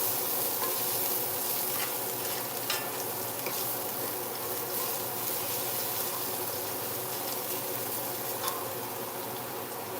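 Four garlic cloves sizzle in a pan for a seared scallops dish, a steady, dense crackling hiss with scattered small pops, continuous and close, no voices.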